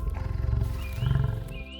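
A lion roars in the early morning mist on the Maasai Mara plains, delivering deep, rumbling grunting roars in two heavy pulses, close and loud, with faint birdsong whistling above.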